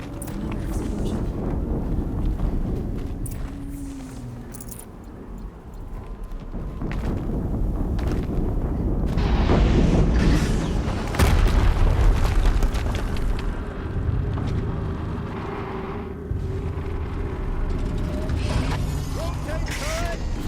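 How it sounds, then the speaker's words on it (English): Explosions in the video game Horizon Zero Dawn, set in a snowy area: heavy rumbling booms and mechanical clatter rise and fall across the stretch, with voices talking in the mix. "Another explosion."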